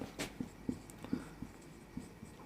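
Chalk or pen writing on a board during a Class 12 maths lesson on determinants and cofactors: a quiet, irregular series of short scratchy taps and strokes, close by, with no talking.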